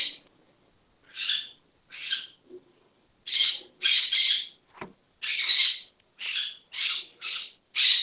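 Pet birds chirp and squawk in short repeated bursts close to a student's microphone during an online class, the calls bright and clustered, with quiet gaps between them.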